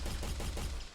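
Rapid automatic gunfire from a video game under development, a dense run of closely spaced shots with no pauses, loud and continuous for the whole second.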